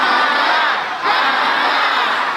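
A crusade congregation shouting together in a loud, dense roar, a continuous mass of voices close and overwhelming for a couple of seconds with only a brief dip in the middle.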